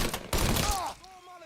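Gunfire in the video game Mafia 3, a quick burst of sharp shots at the start followed by a ringing tail, close and loud.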